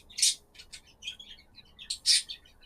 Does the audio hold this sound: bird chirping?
yes